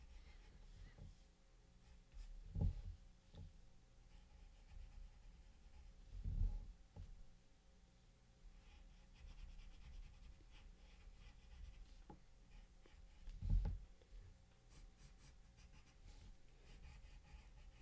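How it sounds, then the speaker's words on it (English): A pencil quickly sketching facial expressions on paper, soft scratchy strokes and short scribbles, close and quiet, with a few louder taps and hand movements in between. "I'm just gonna sketch this real quick for a little while"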